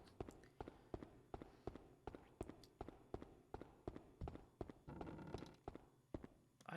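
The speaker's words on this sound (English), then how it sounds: "I heard those footsteps." Footsteps in the video game Haunting Ground land in a steady, even rhythm, about two per second, each a firm thud, moderately close over a faint ambient background.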